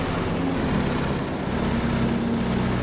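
A forklift engine runs steadily in the Farming Simulator 25 game, a continuous low droning hum with a faint tonal whine, even in loudness and with no talking.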